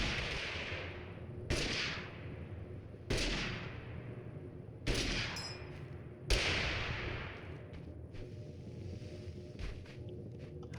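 Five loud gunshots in Totally Accurate Battlegrounds, spaced roughly a second or more apart, each a sharp crack with a trailing echo, over a low steady game background with no talk.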